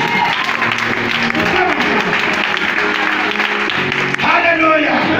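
A church congregation claps steadily in a loud, sustained burst of applause, with voices and music mixed in underneath.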